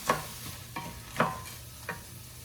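Cauliflower rice with peas and carrots tipped into a hot pan, giving a few soft sizzles and stirring scrapes at a steady pace, close and fairly quiet, with no voices.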